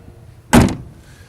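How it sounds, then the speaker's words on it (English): A passenger door on a Land Rover 90 2.5 diesel hardtop shuts with a single solid close-up thunk and a brief rattling decay, followed by quiet. "The passenger door shuts nice"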